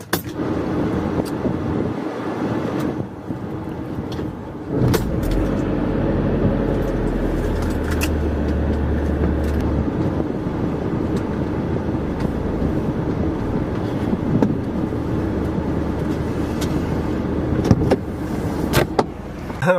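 A large van driving along, with a steady low engine rumble and road noise that runs throughout, swelling slightly at times, close and continuous with no talking.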